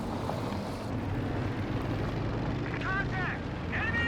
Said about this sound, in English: Recon plane coming in for Teddy.